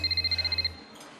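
A futuristic phone in the video game Wanted: Dead gives a rapid electronic trill of about ten even pulses, then cuts off into quiet background.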